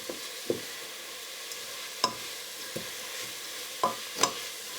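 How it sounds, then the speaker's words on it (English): Chopped onions and leeks soften in a soup pot over heat, giving a low steady sizzle punctuated by several sharp clicks and scrapes of a spoon stirring against the pot. "Now the onions starting to soften up a bit."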